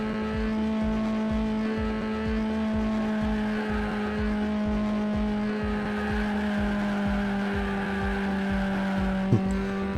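A race car engine on nitrous in the Juiced: Eliminator racing game drones steadily at high revs, with a rapid pulsing exhaust rhythm and tonal whine holding for the whole stretch.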